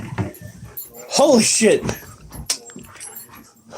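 A puppy whimpers and yips in short bursts while struggling, close up, with keys jangling nearby and someone talking excitedly over it.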